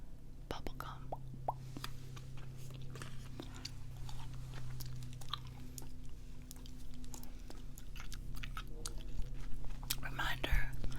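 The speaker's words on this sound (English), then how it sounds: "Here's the bubblegum I'm chewing tonight, by the way. Big League Chew, ground ball grape, bubblegum." Big League Chew ground ball grape bubblegum chewed close to the mic, with soft wet smacks and crunchy bites in a steady rhythm, under a low background hum and faint whispering.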